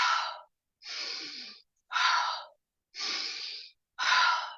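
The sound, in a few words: intensive breathing, inhaling and exhaling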